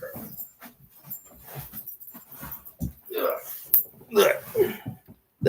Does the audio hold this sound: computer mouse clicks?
no